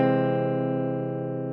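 Guitar inside chord on the first fret, strummed once and ringing on as a single steady, fairly quiet sustained chord that slowly fades, with no talking.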